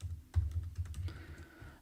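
Keystrokes on a computer keyboard while writing code in an editor, a quick uneven run of close, light clicks with a brief pause in between.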